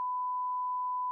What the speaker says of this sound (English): I'm going to go ahead and reset the timer for game 2